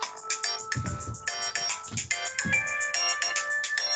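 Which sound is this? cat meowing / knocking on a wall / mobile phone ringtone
mobile phone ringtone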